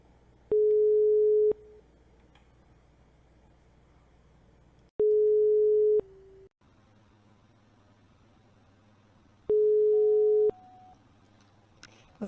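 An unanswered phone call: a ringback tone sounds in three evenly spaced long beeps with quiet gaps between them, alone and with no one picking up.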